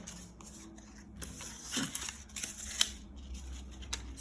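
Scissors snip through paper while a pumpkin shape is cut out, a few soft, close crisp cuts and rustles at a quiet level with no talking.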